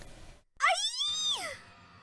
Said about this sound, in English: I heard screaming.